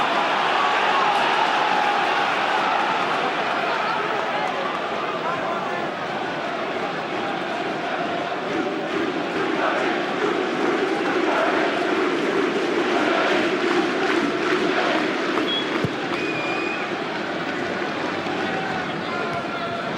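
Stadium crowd roaring continuously at a Birmingham City versus Charlton Athletic football match in 2003/04, a dense, steady wash of voices and chants filling the ground throughout, with a commentator talking over it.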